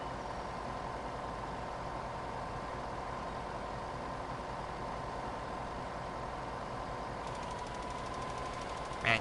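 Tractor engine idling steadily in Farming Simulator 2015, a constant low drone at even volume throughout, with a brief louder bump at the very end.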